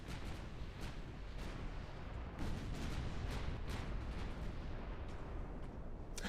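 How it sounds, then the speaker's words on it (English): Heavy guns fire in a USA campaign video game, a dense barrage of booming blasts that overlap with no pauses, loud and rumbling throughout with a few sharper cracks standing out. "Fire the guns!"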